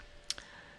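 A single quiet computer mouse click on a software button, brief and close, against faint background hiss.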